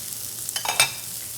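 Shrimp searing in a hot cast iron pan, a quiet steady sizzle broken by a few brief crackles and stirring scrapes near the end.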